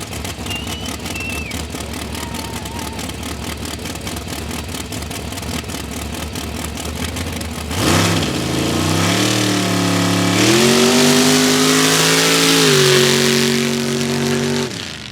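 Mud drag race car at the Valemount Mud Drags, the engine first idling with a loud, steady, lumpy burble, then revving hard and climbing in pitch as it launches down the track, sustained and close.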